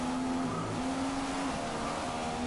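A steady, whining McLaren Formula 1 engine in F1 2015 on PS4, holding a high droning pitch with a brief dip and recovery, loud and continuous with no talking.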